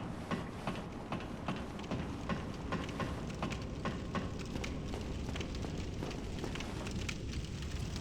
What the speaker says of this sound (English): So this is the first of many bonfires that we're going to find in this game.